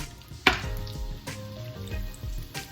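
Donuts fry in hot grease, giving a soft steady sizzle with scattered crackles and pops, and one sharper clatter near the start.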